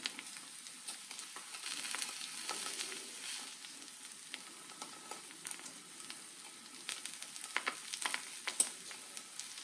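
An egg fries in a hot pan, a soft steady sizzle with scattered sharp crackles and pops, fairly quiet and without talk.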